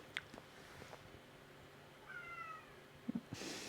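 A cat meows softly once, then gives a couple of short chirps nearby amid quiet room noise and a few small bumps.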